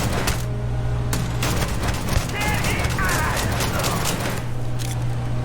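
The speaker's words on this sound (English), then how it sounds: "I don't really have to do very much to kill people in this game. I can just shoot in their general direction." Rapid gunfire in the space video game Starfield crackles in quick bursts, a steady mid-loud barrage with a low continuous drone beneath it.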